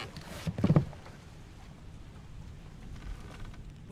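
A steady hiss of rain settles in during a storm in the video game Return of the Obra Dinn, with a faint rumble near the start and soft splashes.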